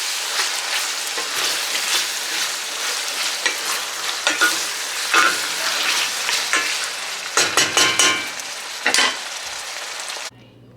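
Ground beef sizzles in a hot pan as a dense crackling frying hiss, broken by sharper clicks and scrapes from stirring, then falls quiet at the very end.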